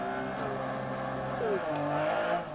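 Lancia rally car engine in the DiRT Rally video game, a steady droning rev with gliding pitch shifts as gears change, loud and continuous with faint tire noise, while someone talks over it.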